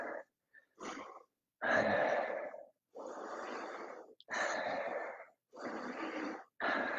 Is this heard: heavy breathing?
yes